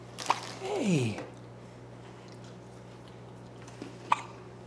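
A baby hiccups a few times, short soft catches heard close over a steady hum, with a soft adult voice murmuring briefly between them.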